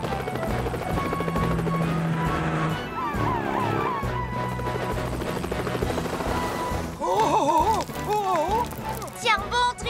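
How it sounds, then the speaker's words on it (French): Cartoon helicopter from Fireman Sam during a rescue, its rotor chopping steadily under a busy soundtrack of music and effects, with brief cartoon squeals and whoops near the end. "Elvis, rejoins Tom et prenez l'hélicoptère."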